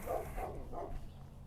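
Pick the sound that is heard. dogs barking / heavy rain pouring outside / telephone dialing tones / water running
dogs barking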